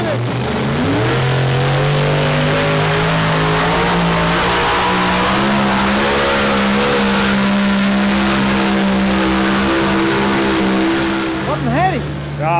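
A tractor with no exhaust fitted revs loudly and steadily up close, its engine note climbing and holding in a harsh continuous roar, with brief voices faint at the end.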